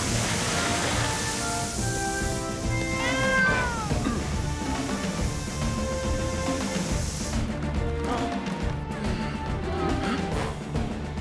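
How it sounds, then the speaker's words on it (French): A cartoon cat meows from inside a burning house in a Fireman Sam episode, its cries rising over a busy backdrop of music and scene noise. "Sam, le chat est resté à l'intérieur de la maison."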